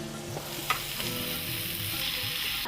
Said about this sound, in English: Now we're going to give that a stir because you can see that the liquid has reduced down quite a bit